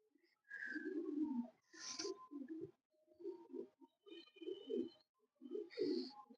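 An old breeding pigeon, about six years old and kept by a pigeon fancier, coos in several low, throaty, rolling phrases close by, with short gaps between them and a faint higher chirp now and then.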